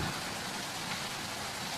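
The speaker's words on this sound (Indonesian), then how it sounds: "hujan ini semuanya ada keberkahan" Steady rain falling in a continuous, even hiss, moderately loud and close, with no voices over it.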